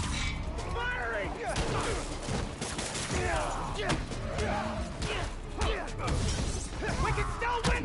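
Dense, continuous gunfire rattles through a game match, loud and near, with overlapping shots and impacts under constant shouting from players.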